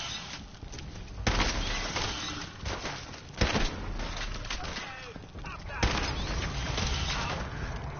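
Repeated gunfire in the game Fallout 4, sharp loud shots in several bursts with a steady din of battle between them, close and dense throughout.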